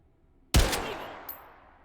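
A single loud gunshot from a video game firing a Jagged Hollow Point round, a sharp crack that trails off into a decaying echo, with a faint click afterward.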